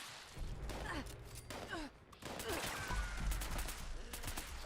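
Gunfire in Fallout, scattered quick shots and bursts from a 10mm automatic pistol amid combat with mole rats, moderately loud with short gaps between volleys.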